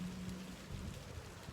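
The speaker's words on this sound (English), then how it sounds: "I'm getting rained on by little needles here." Light rain patters steadily, with soft droplets hissing on surfaces nearby at a low, even level and no voices over it.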